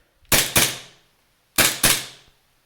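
Two bursts of paired sharp cracks from an R601 JW3 TTI Combat Master gas blowback pistol, each a quick double report with a short decaying tail, loud and close, about a second apart with no talking.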